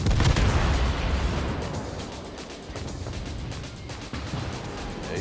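A World of Warships naval battle, with heavy rumbling booms and a dense, sustained roar of gunfire from a warship salvo that fills the whole stretch at steady loudness.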